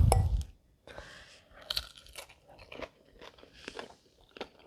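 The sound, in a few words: crunching crispy soy ginger tofu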